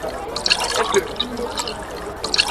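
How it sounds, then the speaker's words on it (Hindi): Frothy lassi runs from the taps of a lassi machine at a traditional food festival in Ankara, Turkey, a loud, continuous splashing stream with scattered drips against a busy background. "यहाँ भी आप लस्सी का प्लांट लगा हुआ है, टूटियाँ चल रही हैं।"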